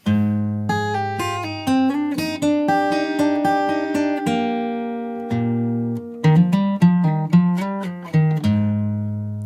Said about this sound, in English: My guitar's in standard tuning and I've got a capo on fret number 3.